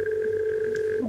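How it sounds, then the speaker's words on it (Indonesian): A telephone on a live call-in radio show gives a steady electronic tone, brief and clear, that cuts off abruptly at the end. "Ada telepon masuk kembali, kami persilahkan."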